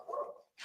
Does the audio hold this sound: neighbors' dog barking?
yes